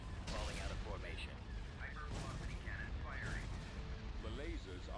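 Laser cannons fire in the Star Wars space strategy game Thrawn's Revenge, a steady dense barrage of loud booming blasts under continuous battle din, with a voice speaking over it.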